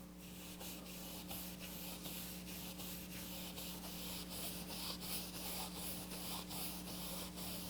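Steady brushing of a paintbrush rubbing paint across canvas, a continuous soft scratchy rasp with rhythmic strokes under a constant low hum, no talking.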